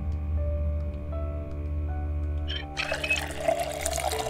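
A saucepan fills with water in the video game Project Zomboid: a gush of running, splashing water starts abruptly partway through, over a low steady background hum.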